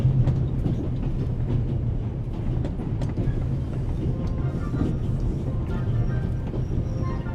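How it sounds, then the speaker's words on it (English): Continuous low rumble and rattle of the Orient Express train running in the video game The Raven, a steady rolling drone throughout with faint clicks, no speech. "The noise on this train is driving me crazy."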